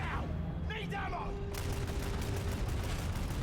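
Rapid bursts of bolter fire in a Warhammer 40,000 video game, a dense rattling volley that fills the whole clip and starts hard at about 1.5 seconds, with game voices and effects mixed in earlier.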